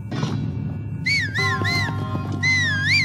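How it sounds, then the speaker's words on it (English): Link whistles a short, wavering melody in Zelda: Breath of the Wild, with clear warbling notes in a few phrases over a low game soundscape. "You can whistle? Cool."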